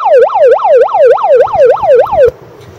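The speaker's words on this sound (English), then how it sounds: "The siren feature can be turned on by just pushing the siren button on the detachable" A Pyle Pro PMP55R bullhorn megaphone sounds its siren loud and close, a rapid rising-and-falling wail repeating about eight times before cutting off abruptly.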